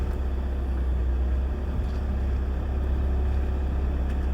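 Vehicle towing a trailer around a corner at the Chelsea Flower Show build, a loud, steady low engine drone with a deep rumble and no voices, holding even throughout.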